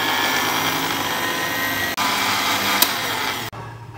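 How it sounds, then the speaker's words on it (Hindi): Roughly chopped tomatoes are blended into a paste, giving a loud, steady, close-up whirring motor drone that cuts out briefly twice. "अब इसको हम कर देंगे ब्लेंड और इसकी पेस्ट रेडी करते हैं।"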